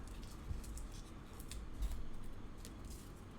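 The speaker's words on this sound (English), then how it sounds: "maybe just making like a triangular cut" Scissors snip a triangular notch into cardboard close by, short crisp cuts and rustles spread unevenly across a few seconds, with no voices.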